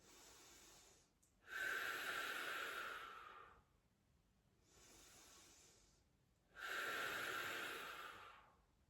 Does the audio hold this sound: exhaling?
yes